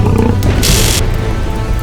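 A lion in a cave gives a loud, close, deep roar that fills the whole short moment, with a rough, growling texture throughout.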